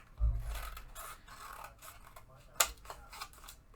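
Scissors snip and rasp through paper in short bursts, close and fairly quiet, with a sharp crisp cut partway through and light handling rustle around it.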